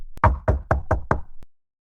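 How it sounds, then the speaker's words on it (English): Five firm knocks on a cottage door in quick, even succession, close and loud, followed by a single fainter tap. "He knocked at the door."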